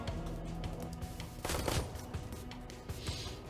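Burst-fire gunshots in Shadowrun: Hong Kong ring out as a quick cluster of sharp cracks over a low, constant game-music bed.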